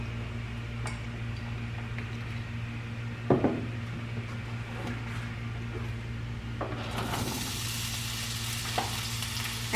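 Vegetables frying in oil in a pan give off a steady close sizzle, with a few clinks of a utensil and a louder hiss welling up toward the end.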